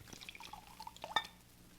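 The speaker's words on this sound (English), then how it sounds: "Here, let me pour you both some wine" Wine poured into glasses as a radio drama sound effect, a quiet trickle of liquid with a few close drips and a light glassy clink near the end.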